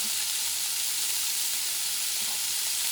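Fish fries in a hot pan with basil, giving a loud, close, continuous sizzle and hiss that holds steady throughout, with no talk over it.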